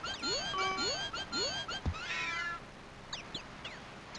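A cat in King's Quest 5 yowls and meows in rising, wavering cries, with rapid squeaks mixed in as it chases a rat, followed by a few quieter chirps, fairly faint.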